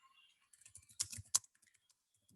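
Someone types on a computer keyboard in a short burst of key clicks with a few louder strikes, then several sparse, quiet taps. The room is otherwise silent.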